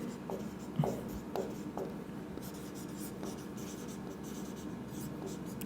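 Chalk or marker strokes on a board during a Class 12 physics lesson, a series of short scratchy taps and scrapes in an uneven rhythm, fairly close, with no talking.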